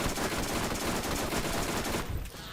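Rapid sustained gunfire from a gun in the video game Borderlands, a dense stream of loud shots that cuts off abruptly near the end, leaving a quieter tail.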